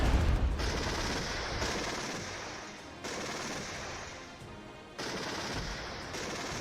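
Anti-aircraft gunfire in the Cold War video game Regiments, loud sustained rapid-fire bursts roaring in several long stretches with brief breaks between them, with no voices.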